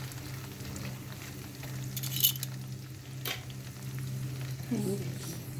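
Fresh danggit fish sizzles steadily in a pan, the frying crackle holding at a moderate level with a few clinks of a utensil and brief stirring sounds.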